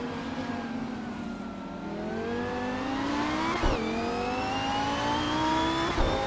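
Engine of a 2014 Lamborghini Huracan Super Trofeo race car in a racing video game, loud and continuous, climbing steadily in pitch through the gears with two quick upshift breaks, no talking.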